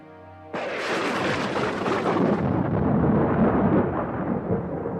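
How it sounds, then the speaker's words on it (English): A loud crash of thunder breaks in suddenly and rolls on as a sustained, rumbling roar over a storm-lit house, with no voices over it. "Thunder crashed over the house."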